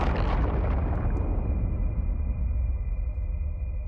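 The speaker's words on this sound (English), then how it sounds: "And we can go and destroy the music box." A music box is smashed in Little Nightmares II, giving a loud booming crash at the start that decays into a lingering rumble and fading ring.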